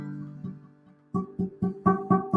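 An acoustic guitar string is plucked repeatedly with a fingertip pressing too lightly on the fret, giving short, dull notes with a buzzing edge, a few faint ones followed by a steady run of firmer plucks.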